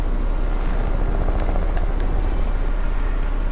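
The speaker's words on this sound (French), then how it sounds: "Combien d'hélicos ici?" A helicopter in the Fortnite video game drones with a steady, loud, close rotor and engine rumble that fills the whole stretch without pause.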